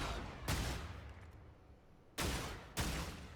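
A video game shotgun fired while aiming down the sights gives three heavy, booming blasts spaced about a second or more apart, each trailing off in a long rumbling decay.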